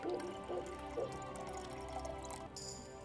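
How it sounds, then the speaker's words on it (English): Liquid is poured from a small glass phial into a potion during alchemy brewing in Kingdom Come Deliverance 2, a soft, close trickle and a few drips over faint background hum. "And then we can grab the phial and pour to finish the potion."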